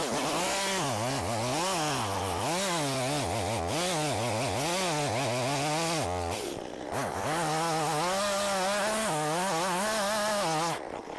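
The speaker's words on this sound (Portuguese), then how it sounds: "Então a gente corta no pé esse eucalipto agora" A chainsaw cuts through the base of a eucalyptus tree in a syntropic agroforestry plot, its engine whining loud and close and rising and falling under load, with a brief dip in the middle before it revs up again.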